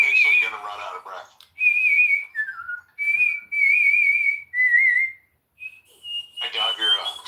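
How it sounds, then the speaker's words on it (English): A man whistling while sucking air in, a series of clear, piercing held notes with short pitch slides and gaps between phrases, close and loud, with brief talk at the start and end. "I can whistle sucking in"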